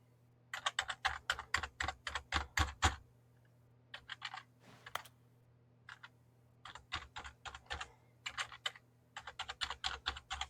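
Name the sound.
pressing keys on a computer keyboard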